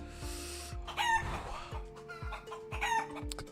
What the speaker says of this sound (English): Chicken sounds for sure.